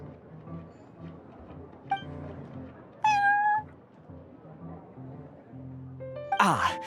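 A cartoonish cat meows in the Genshin Impact video game, a couple of short bright meows over soft background music and game sounds, with a louder clink and sparkle effect near the end.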